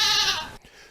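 A goat gives a single loud, wavering bleat lasting just over half a second, then cuts off to near quiet.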